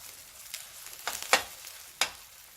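A Japanese omelette frying in a pan on a solar-powered camping stove gives off soft sizzling, with a few sharper crackles and pops spaced across the moment, close by and without any voices.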